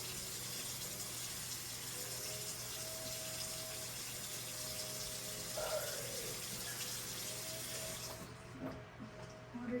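Water running steadily from a tap during face washing at home, a constant close hiss and splash with faint handling sounds, cut off near the end as the flow stops.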